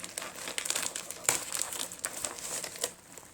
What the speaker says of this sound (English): this is the Ipsy bag here, and I am going to rip into it